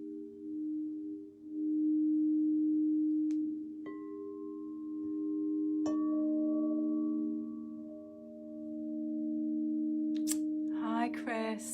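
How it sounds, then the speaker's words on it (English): Crystal singing bowls ring with steady sustained tones, new bowls struck and joining the drone around four and six seconds, layered shimmering overtones holding throughout, with brief voice at the very end. "Just gathering everybody with the sounds of the crystal bowls."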